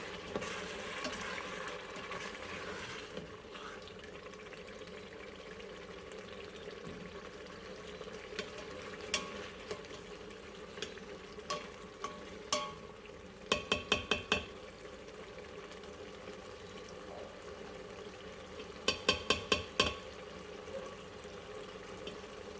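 Taco meat sizzles and simmers in an Instant Pot, a steady low bubbling hiss broken by occasional clusters of spoon scrapes and taps against the pot, quiet and close with no talk.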